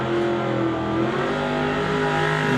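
A Chevy Nova roars off a drag strip start line, its engine a loud, steady, sustained drone with strong harmonic tone, heard up close without any talk.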